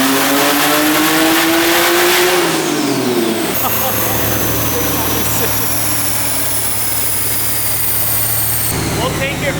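Big-turbo BMW 135i making about 700 wheel horsepower, engine loud and close as it revs up and holds a steady high drone, with talk over part of it.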